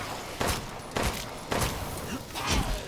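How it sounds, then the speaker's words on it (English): Four heavy shotgun blasts in Resident Evil Village, fired at roughly half-second intervals during a castle boss fight, each a sharp booming burst with a short decaying tail. "we'll have to use a couple shotgun rounds"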